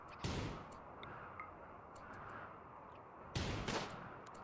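Gunfire in the video game RimWorld: two faint shots a few seconds apart, each a short crack with a brief tail, along with small ticking clicks over a low background hum.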